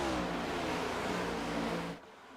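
NASCAR stock car engines in iRacing at Rockingham roar in a loud, sustained drone of several cars running together, then the sound drops off abruptly near the end.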